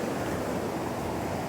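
A river swollen with water roars near Anchorage, Alaska, a steady dense wash of rushing noise with no breaks.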